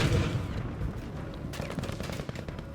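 Enemy gunfire in the video game Battlefield V, a dense burst of rapid shots with heavy low rumble that starts loud, eases slightly, then returns as a sharper crackling volley.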